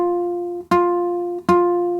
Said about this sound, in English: If I place my finger on the middle fret and I play,